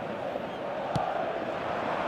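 A stadium crowd in the football video game eFootball 2026 roars steadily at a distance, a continuous wash of cheering with one brief thump partway through.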